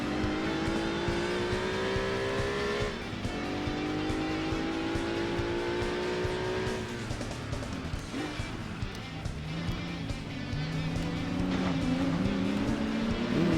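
Racing car engine in Gran Turismo 2, driven on the Rome night circuit in reverse, drones loudly and steadily with rising revs, gear-change drops and continuous tyre and road noise throughout.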